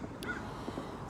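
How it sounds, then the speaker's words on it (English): A crow caws once or twice from a nearby tree outdoors, the short harsh calls faint over a low steady background hum, with no voices. "There's a crow in this tree nearby."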